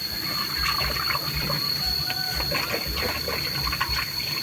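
A small child washes cups and dishes for their mother under running water, with a steady trickle and splash and occasional light clinks, heard close and moderately quiet.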